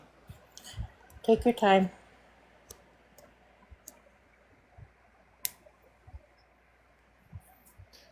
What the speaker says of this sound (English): I'm just typing this out for him.